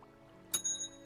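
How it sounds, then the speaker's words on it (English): A single bright bell ding sounds in the fishing game Dredge, a sharp metallic strike with a shimmering ring that fades over a quiet low hum, followed by a couple of soft thumps. "A bell ding. The bell has tolled for him."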